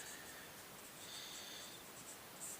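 Chalk or marker scratching across a board while a maths problem is worked out, faint intermittent squeaky strokes over a quiet room hiss, with no voice.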